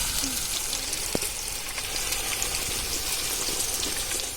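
Chicken fries in masala for a dum biryani, a steady, dense sizzle and bubbling crackle that holds close and loud throughout, with a faint clink.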